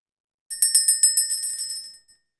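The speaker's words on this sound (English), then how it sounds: "We're going to ring the bell, clear the energy" A small bright bell rung in a quick series of about eight ringing strikes that fade out, clear and close, with no other sound around it.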